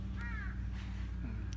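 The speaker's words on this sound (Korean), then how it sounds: "새들만이 조용히 오가면서 굉장히 한적한 곳입니다." A single crow caws once, mid-distance, over a low steady background hum in a quiet, secluded autumn spot.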